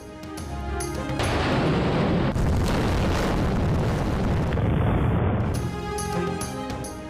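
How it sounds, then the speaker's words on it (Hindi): Pakistan Navy warships fire an anti-ship missile in the northern Arabian Sea, and a loud, sustained roaring blast swells and rumbles for several seconds before fading, with no voices over it. "पाक बहरिया की जानिब से शिमाली बहेरा अरब में एंटी शिप मिसाइल फायरिंग का कामयाब मुजाहरा"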